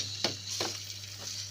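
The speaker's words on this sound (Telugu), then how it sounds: "ఆనియన్స్ అయితే ఫ్రై అవుతున్నాయి ఫ్రెండ్స్." Onions frying in a pan with turmeric while cooking palak, a steady sizzle broken by a few scraping stirs at a close, moderate level.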